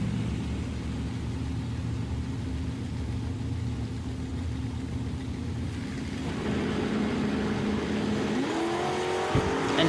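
At a drag race, a 1950 Chevy truck and a Chevelle idle with a steady, loud engine rumble. The engines then rev and launch, and rising engine whine comes in toward the end.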